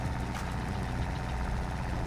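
A vintage tractor engine from a 1954-era farm in Farming Simulator 22 idles and chugs steadily, a continuous low rumble held at an even level with no voices over it.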